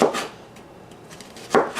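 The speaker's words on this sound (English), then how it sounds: "And chopping is just cutting into small," A knife chops onions into small, rough pieces on a cutting board, giving two quick bursts of chopping strokes at the start and end with a quiet pause between, close and alone.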